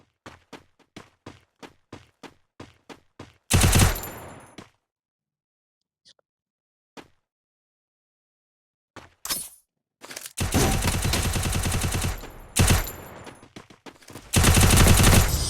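Rapid single shots crack out in a quick row from a shooter video game, then go quiet with a few isolated pops before heavy sustained bursts of gunfire return near and loud.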